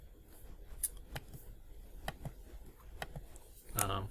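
Sparse keystrokes on a computer keyboard, a handful of quiet separate clicks spaced irregularly over a low, hushed room background.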